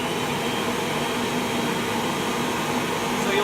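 An upright vacuum cleaner that sucks but whose brush does not spin runs at a steady, loud, droning whine, switched on for repair, holding constant for the whole stretch.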